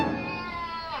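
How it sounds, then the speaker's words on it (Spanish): A loud, close cat gives a single drawn-out meow that stays steady and tonal for about a second, with no other sound around it. "Ese gato es una bestia salvaje."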